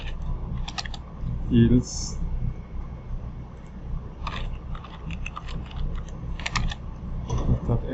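Rapid clicks of a computer keyboard as code is typed, in bursts with short pauses, close and moderately loud, with someone speaking over much of it.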